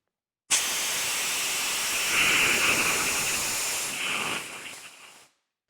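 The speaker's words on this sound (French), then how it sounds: "Lorsque je vais ouvrir la vanne liquide de la bouteille, c'est un mélange solide-vapeur qui va sortir" CO2 blasts out of the opened liquid valve of a cylinder as a solid-vapour mix, a loud, steady, close rushing hiss that starts abruptly, holds for about five seconds, then cuts off.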